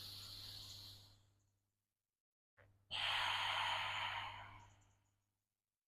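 Deep yoga breathing during a vinyasa flow: one long, airy exhale fades out, then after a pause comes a sharp intake and another long, loud, breathy breath close to the mic, over a faint low hum.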